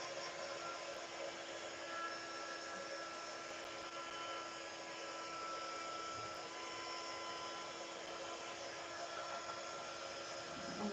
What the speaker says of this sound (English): I'm just going to heat over the bits of glue that I've put on.